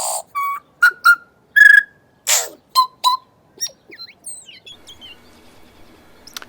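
Native New Zealand birds sing in a quiet, emptied city, with clear whistled phrases and chirps in short bursts at first, then softer, busier calls trailing off into the distance.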